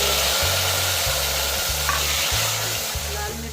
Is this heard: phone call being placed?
no